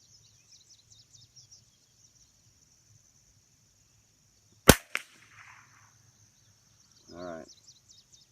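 A single sharp report from a CZ 455 American .22 LR rifle rings out outdoors, followed by a quieter second crack, with crickets and birds chirping faintly throughout and a brief low murmur afterward.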